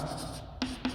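Chalk or pen scratches out a physics equation by hand, with a steady soft scraping stroke and then two short sharp taps near the end, alone and close.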